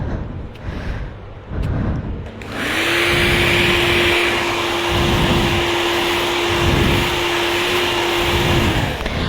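A professional hair dryer blows hot air steadily and loudly close by during hair styling, starting with a click after about two and a half seconds of quieter background.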